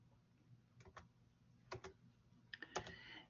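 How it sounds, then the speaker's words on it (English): Keys tapped on a calculator, a few quiet, sharp clicks in small irregular clusters against a faint background hum. "when I type in the square root of 20, it gives me a decimal"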